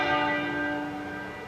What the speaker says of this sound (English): At the place where they were married, Westminster Abbey, the tenor bell started to toll at 6 o'clock this evening